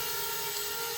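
A small FPV drone hovers nearby, giving a steady, loud, high-pitched propeller whine with a sustained motor tone and no pauses.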